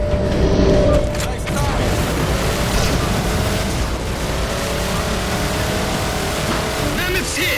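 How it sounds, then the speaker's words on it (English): Vehicle rumble and dense battlefield noise fill Halo 4 gameplay as a Covenant vehicle approaches, a broad roaring wash with booming impacts throughout and no clear pauses. "All units, unidentified Covenant vehicle incoming"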